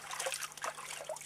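Water trickling in a natural forest well: faint, continuous, irregular burbling and dribbling close by, with no voices.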